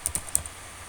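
Quick light keystrokes on a computer keyboard as a file name is typed, a handful of close, crisp taps in the first half before the sound trails into quiet room tone.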